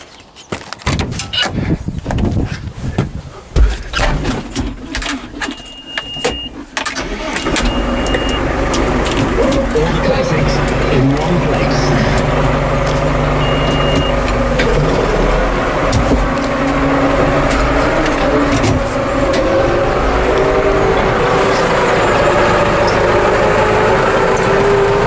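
A farm vehicle's engine runs steadily while pulling a loaded Norton muck trailer, first with some clunks and knocks, then a loud continuous rumbling drone close by.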